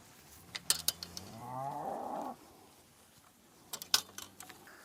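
A single drawn-out low moo from one of a herd of blue cows rises and fades over about a second, with scattered clicks and clanks of farm equipment around it and no speech.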